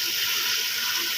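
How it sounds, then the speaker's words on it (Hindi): Water pours steadily into a pot of browned mutton paaya on a kitchen stove, making a continuous bright, hissing splash throughout with no talk. "अब हम इसमें पानी ऐड कर देंगे"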